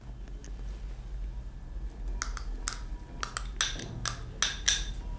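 Grated radish, carrot, beetroot and tomato are tossed together in a bowl for a fresh salad, with a series of light clinks and scrapes of a utensil against the dish, close and fairly quiet.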